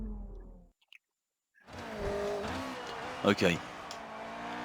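A Formula 1 car in the game F1 2019 roars into a steady engine drone after a brief silence, with a couple of sharper revving bursts near the end and a voice speaking briefly at the start.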